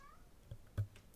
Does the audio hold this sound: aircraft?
no